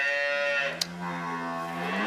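Cattle on a farm letting out one long, close, drawn-out moo that holds steady for about two seconds, with a brief click partway through and no talking.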